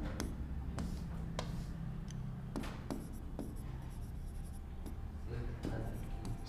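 A pen writes on paper while a class 10 geometry proof is set down: a series of sharp scratchy strokes and taps in irregular bursts, close to the microphone, over a low background hum.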